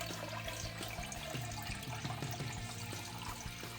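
Liquid dripping steadily through a strainer during all-grain beer brewing, a faint continuous trickle and patter close by with no talking.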